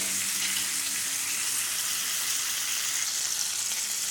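Burger patty searing in a hot pan for a mushroom and Swiss burger, a steady, even sizzle and crackle that holds for several seconds with nobody speaking.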